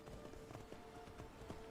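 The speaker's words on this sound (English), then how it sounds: "You got your own summoned steed." A summoned horse steed in the Minecraft mod Phenderix Magic World trots along, its hooves clip-clopping in a steady, even rhythm, quiet and fairly distant, with no speech.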